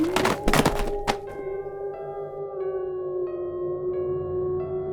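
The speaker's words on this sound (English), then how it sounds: "Virun hears the books dropping sound as the previous days." Books dropping onto a floor in a haunted morgue, a flurry of loud, close thuds in the first second, then a lingering eerie tone that rings on alone.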